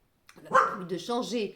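A pet dog barks and yips in short bursts close by, overlapping with someone speaking French indoors.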